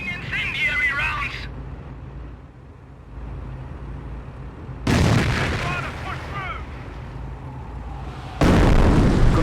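Artillery barrage in Company of Heroes, heavy booming blasts with crackling debris arriving in bursts near the start, middle and end, under battlefield rumble and spoken unit chatter.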